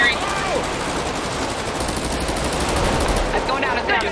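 Sustained rapid gunfire from a video game, a dense continuous rattle of shots that is loud and steady throughout, with voices talking over it.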